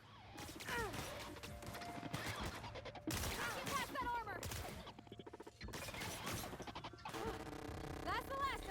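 Gunfire from the video game The Outer Worlds cracks out in rapid bursts and scattered shots among clanks and impacts. The firing keeps going through the whole stretch, and game voices and a player's talk sit underneath.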